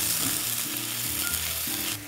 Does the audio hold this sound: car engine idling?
no